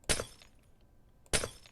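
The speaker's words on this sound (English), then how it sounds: "I can just break my way through this glass wall" A glass wall broken block by block in Minecraft, two separate crisp shattering crashes about a second apart, each a short bright burst fading quickly, alone with no talking.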